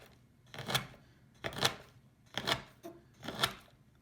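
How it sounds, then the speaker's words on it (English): A knife chops a 7-ounce block of dark chocolate on a board in four separate, evenly spaced crunching strokes, close and fairly loud with no talking. "So I'm going to chop the 7 ounces dark chocolate, and I'm using a knife like this"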